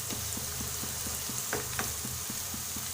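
Egg curry fries in a pan with a steady, even sizzle, while a spoon stirring it taps and scrapes in a regular rhythm. No voices.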